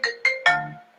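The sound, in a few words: phone ringing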